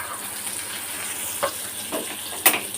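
Egg frying in mustard oil in a pan, a steady bright sizzle with a few louder pops and spits, close and continuous, with no talking.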